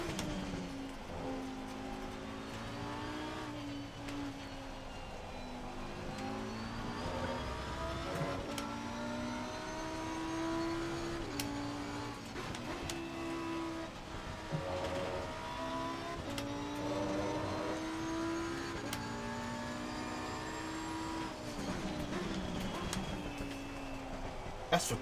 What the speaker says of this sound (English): Here's the only other Lamborghini on track.